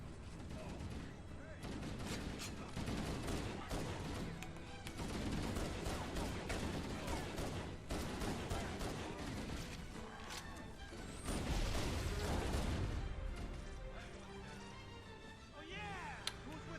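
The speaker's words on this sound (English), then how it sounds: "The game's pistol sounds good. Like there's some good sound design on this pistol." Pistol shots ring out amid a busy firefight in Halo: Combat Evolved, with repeated sharp reports, crashes and other weapon fire layered densely over game noise for the whole stretch.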